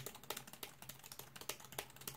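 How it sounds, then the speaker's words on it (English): Rapid typing on an Anker Slim Bluetooth keyboard, a steady run of quiet, close key taps with raised keys and a slightly clicky feel, heard alone. "typing on this keyboard is actually really good"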